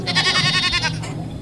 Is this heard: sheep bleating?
yes